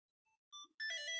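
A phone rings with a short rising sequence of electronic tones, a few quick beeps building into a brighter, sustained melodic chime, clear and close with no voices.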